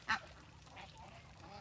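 A single bird gives one short, loud call near the start while outdoors among trees, then only quiet ambient background remains.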